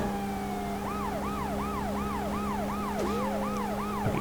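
Police car siren in the PS1 video game World's Scariest Police Chases, a steady rapid wailing yelp repeating about three times a second over a constant engine drone, loud and close.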